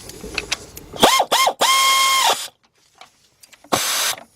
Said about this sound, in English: we're going to tighten this up using the air ratchet